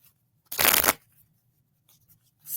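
A single quick riffle of tarot cards being shuffled for a reading, a crisp, loud burst of flapping card edges lasting under half a second, followed by quiet and a faint second rustle near the end.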